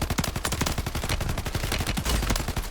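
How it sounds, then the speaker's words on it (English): Rapid automatic gunfire in the video game Call of Duty: Warzone, a loud continuous burst of close shots that fills the whole stretch with no talking. "Tell this nerd to stop shooting me."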